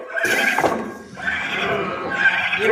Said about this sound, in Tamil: ஏதோ ஒரு அஸ்வம் வந்திருக்கிறது.